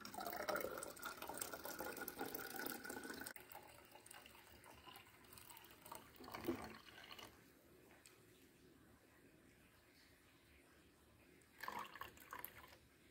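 Ash lye liquid is poured slowly from a glass bottle into a container, giving a faint trickling and splashing for a few seconds, then quieter drips with brief renewed splashes later on.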